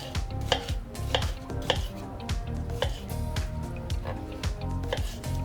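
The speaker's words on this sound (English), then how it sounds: "just like chop it up into little" A knife chopping dragon fruit into small pieces on a cutting board, with steady, rapid close knocks repeating about twice a second, plus soft squishy and wet sounds between the strokes.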